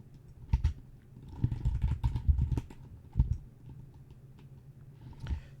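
Keys clatter on a computer keyboard in a short, uneven burst of close typing, about five seconds long, with no talk.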